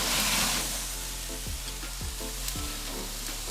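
Toulouse black pork sausages searing on a barbecue grill, a steady loud sizzle with short crackles and spits repeating every half second or so, close and continuous with no voices.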